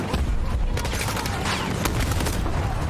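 Video game shooter gunfire crackles in a dense, loud burst of rapid shots over a busy, constant background, with no voices.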